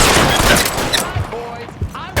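Rapid bursts of gunfire in the L.A. Noire video game, dense overlapping shots in a loud firefight with shouted voices mixed in throughout.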